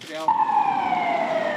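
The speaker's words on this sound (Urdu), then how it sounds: "بیلجیم کے مختلف شہر پولیس کی گاڑیوں کے سائرنوں سے گونجتے رہے" A police car siren wails loudly and close by during night-time raids in a Belgian city, its tone holding and slowly sliding downward in one long continuous sweep.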